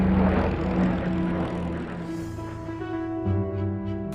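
A silver Supermarine Spitfire, the WWII fighter, drones past with a loud, steady propeller engine roar that shifts slightly in pitch as it flies, filling the whole stretch with no voices.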